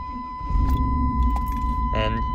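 A high-mileage Chevrolet K1500 truck engine cranks and catches in cold weather, a low rumble rising and idling steadily at close range, with a brief jangle of keys and a steady whine running through it.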